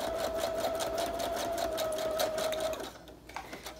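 A sewing machine stitches through linen in a steady, rapid mechanical whir with a fine repeating needle rhythm, close and fairly loud, then slows and stops near the end.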